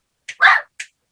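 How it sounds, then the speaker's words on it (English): A pet dog lets out a few short, sharp barks close by: a brief yip, then a louder bark and another quick yip, with no talking. "Sorry, my little guard dogs."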